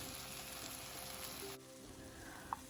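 Grated ginger frying with pumpkin in a pan for a traditional vegetarian pumpkin dish: a steady, close sizzle that suddenly drops quieter partway through, followed by a couple of small sharp clinks near the end.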